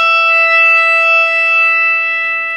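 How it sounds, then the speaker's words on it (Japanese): A single sustained electric guitar note, E on the second string at the 17th fret, rings clean and steady, close and loud, with no talk. "2弦の17フレットを弾きます。"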